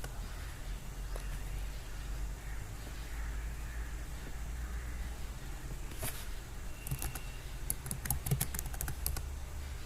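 Someone types a MATLAB command on a computer keyboard. A few isolated keystrokes come first, then a quick burst of clicky taps near the end over a quiet background hum.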